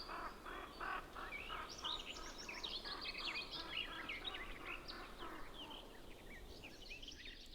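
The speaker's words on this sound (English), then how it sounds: "Spring relationships between birds." Several songbirds chirp and twitter through a spring scene, calls overlapping densely and steadily at moderate distance with no talk.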